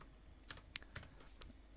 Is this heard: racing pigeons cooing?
no